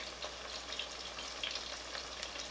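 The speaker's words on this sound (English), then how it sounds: "You want to sear it, you know, like a couple minutes on both sides." Pounded meat sears in a hot pan with a steady, crackling sizzle that runs unbroken and close, loud and alone without voices.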